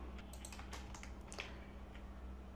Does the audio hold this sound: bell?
no